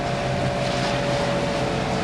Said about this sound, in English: 2 o'clock in the morning we'd put the engine on, and we've kind of had it on since